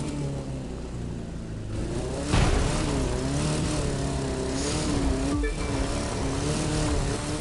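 Car engine in The Crew 2 during a live Summit event, droning steadily with rising and falling revs and a louder surge partway through, continuous and close with no talking.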